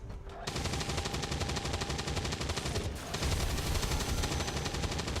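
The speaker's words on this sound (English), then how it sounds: "Now rapid fire. For even more shredding." Rapid automatic gunfire in the XCOM 2 video game, a dense, loud, unbroken rattle of shots lasting several seconds with a brief change in tone partway through.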